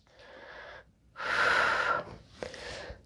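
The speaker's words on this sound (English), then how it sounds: "We're gonna try to take a breath" Breathing during yoga: a shaky inhale, then a long, loud, wheezy exhale up close, followed by a softer breath, with no speech.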